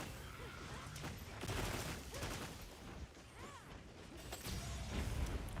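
Adhesive ammo fired from a bowgun in the Monster Hunter video game: a run of sharp, punchy shots and mechanical clacks over a busy battle din, with bursts and whooshes throughout.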